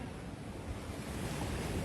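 Ocean waves at Dhanushkodi give a steady, dense roar of surf mixed with wind buffeting the microphone, continuous and fairly loud, with no voices.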